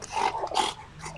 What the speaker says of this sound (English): Sorry if you're hearing weird noises. I've got a dog. He desperately wants me to throw a ball for him.